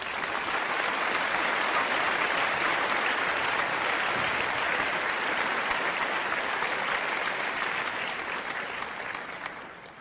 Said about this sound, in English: where is our applause?